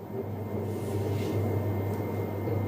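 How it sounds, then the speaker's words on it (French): A steady mechanical hum and whir from an argan oil extraction press running continuously at moderate level, with no voices. "L'extraction s'effectue via cette machine."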